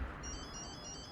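A phone ringtone sounds with a repeating electronic melody, fairly faint and steady over a dense background of game noise.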